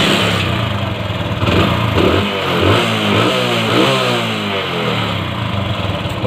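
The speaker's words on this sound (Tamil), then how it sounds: "இப்போ வண்டி நான் ஸ்டார்ட் பண்ணுறேன்" A motorcycle engine with an accelerator raising fault starts up and revs, settling into a loud, close idle with several rising and falling throttle swells, and no talking.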